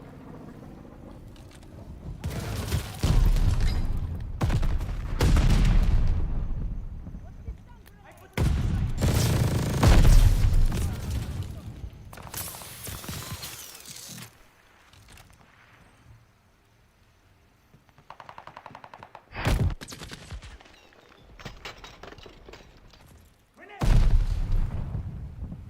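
Assault rifle gunfire in the Call of Duty Vanguard video game, arriving in several loud bursts and volleys separated by quieter gaps, with booming impacts mixed in.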